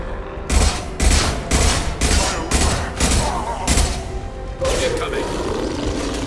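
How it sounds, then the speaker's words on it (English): A concussive shot is fired in Mass Effect 2 as part of a run of heavy, evenly spaced blasts. About eight loud, booming impacts follow one another at a steady rhythm, then a sustained roaring rumble takes over. "Firing concussive shot!"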